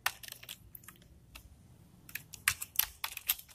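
Code being typed on a computer keyboard in irregular clusters of crisp, close key taps with short gaps, some strokes sharper and louder, over a faint low background hum.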